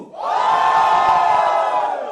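An audience at a film song launch yells loudly for number 2: a dense, sustained crowd roar with cheers and whoops rising quickly and holding strong throughout.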